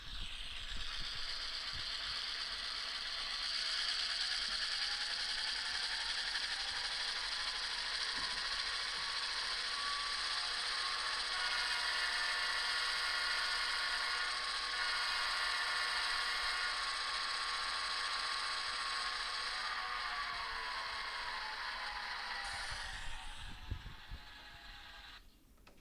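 An Atlas N scale GP40-2 model locomotive with a stock LokSound sound file gives a steady, whiny electronic diesel drone that holds for about twenty seconds, rising slightly in pitch midway, then cuts off near the end, with no talking.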